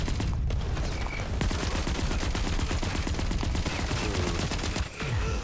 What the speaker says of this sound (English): that's someone locking onto me and shooting me